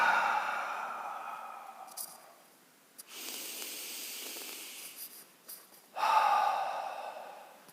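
Slow, deep breaths during a guided meditation, a long airy exhale followed by a quieter breath and then another full breathy exhale, close and alone without speech.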